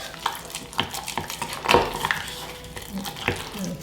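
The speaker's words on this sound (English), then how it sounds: "I'm going to mix this. It's kind of a thick looking paste." A spoon works through a thick sourdough starter paste in a jar, giving wet scraping and clacking strokes in an irregular rhythm, close and fairly loud, with no voice present.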